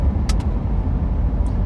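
A car driving on a highway through growing evening traffic gives a steady, close road and engine rumble, with a couple of faint high hisses near the start.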